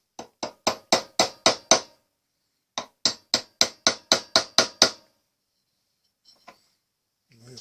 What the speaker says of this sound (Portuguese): Vou experimentar umas pancadinhas com o martelo e ver o que é que acontece.